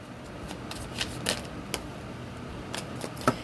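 Tarot cards are shuffled and laid out close by, giving a run of soft riffling flicks and crisp snaps, with one sharper slap near the end.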